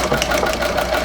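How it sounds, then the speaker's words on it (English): Singer 201-3 sewing machine in a treadle, running steadily with the needle bar tapping a quilting foot in a fast, even mechanical clatter, loud and close. "The main noise that you hear is the needle bar hitting that quilting foot"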